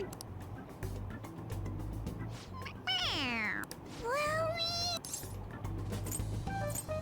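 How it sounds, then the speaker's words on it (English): Stuffed toy cat from the Persona 5 game squeaks out two clear, high sliding meows when its head is pressed, loud and close against a low steady hum. "It meows when you press on its head."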